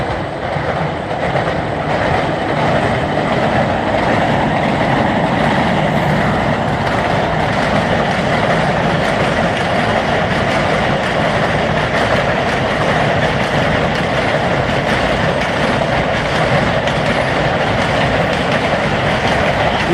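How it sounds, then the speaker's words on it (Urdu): A long Karachi-to-Sialkot passenger train of about 17 coaches crosses the Nala Deck bridge, a loud continuous rumble and rattle of wheels on rails that holds steady throughout, close by. "یہ اس وقت ٹرین کراچی سے سیالکوٹ کے لیے نالہ ڈیک کے پل سے گزر رہی ہے۔"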